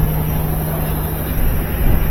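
A GE washing machine drum spins on its newly installed motor, making a loud, steady whir with a constant hum and no breaks.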